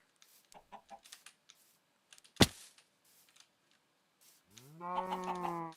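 A cow in the Minecraft video game gives one drawn-out, harmonic moo near the end, after scattered soft clicks and a single sharp knock, with no voices.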